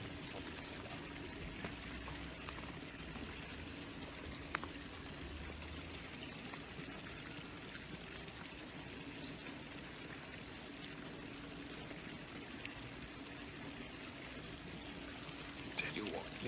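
Water runs steadily from a water source in a continuous, moderately loud pouring rush, with a few faint clicks.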